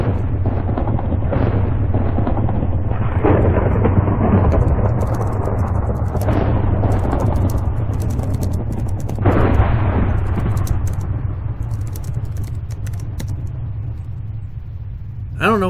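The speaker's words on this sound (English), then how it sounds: "I don't know why, but there's thunder" Rolling thunder in the video game Minecraft, a loud continuous rumble with several heavier swells, playing over steady low game background noise throughout.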